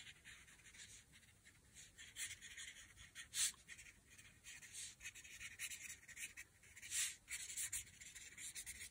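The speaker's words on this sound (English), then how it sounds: "you just pretend you're writing" A pen scratching across paper in quick, irregular strokes of pretend writing, close and quiet, with no one talking.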